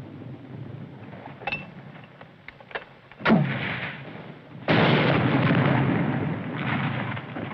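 M2 mortar fire and explosions in a war movie battle: a few scattered distant pops, then a sharp blast and a second loud rumbling explosion that rolls on for several seconds.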